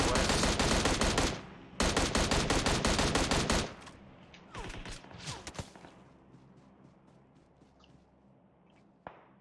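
Rapid bursts of gunfire from an online multiplayer shooter, loud and dense for nearly four seconds, then scattered, fading single shots and one sharp late crack.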